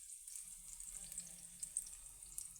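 Rice browning in a pot over rising heat, Haitian style: a quiet, steady, hissing sizzle with faint crackles, with no other sound over it.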